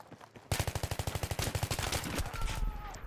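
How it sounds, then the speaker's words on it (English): Rapid automatic gunfire from a Battlefield 3 match on Xbox One, a loud close burst of evenly spaced shots lasting a couple of seconds, followed by trailing noise. "I'm using a gun."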